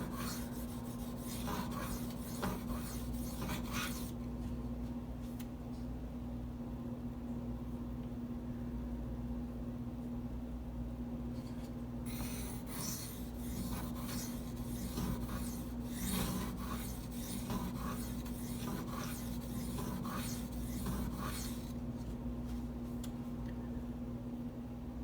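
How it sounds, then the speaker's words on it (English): A Gritomatic silicon carbide sharpening stone rubbing along the blade of a Spyderco Native 5 folding knife, a steady rasping scrape in repeated strokes with brief pauses, close and fairly loud over a constant low hum. "I don't know if you heard how loud that stone was when I first"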